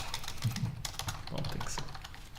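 Quick, irregular keystrokes on a computer keyboard during a lecture, soft and close with uneven clusters of clicks and a faint room murmur beneath.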